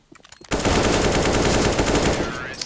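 Automatic AK rifle fire in the game Counter-Strike during a tense 1v1 round: a sudden loud, sustained burst of rapid shots starting after a brief quiet lead-in, with no talk over it.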